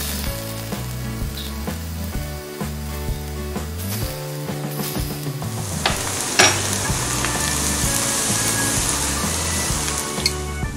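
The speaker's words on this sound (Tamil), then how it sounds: "இப்போ நாம் இதை பணியாரக்கல்ல சுட்டு எடுத்துடலாம்." Sukiyan sweet dumplings fry on a paniyaram pan with a constant, close sizzle and crackle that runs the whole time beneath background music.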